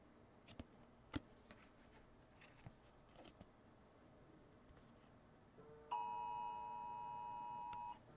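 Amber Alert tone sounding on a phone: a steady, loud electronic beeping tone, faint taps and clicks before it, no speech.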